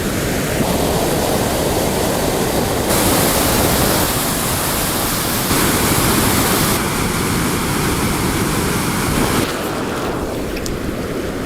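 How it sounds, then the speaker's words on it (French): Swollen river in flood at Conques-sur-Orbiel rushing past in a loud, continuous broadband roar of churning water and eddies, close and unbroken, with surges in intensity but no voices. "Vous voyez le débit de l'eau qui est impressionnant quand même ici aussi."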